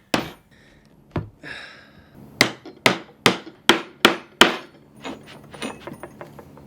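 A hammer strikes a punch through a leather knife sheath to make stitching holes. There are sharp, loud, close blows: a few isolated hits, then a rapid run of evenly spaced strikes, then lighter taps trailing off.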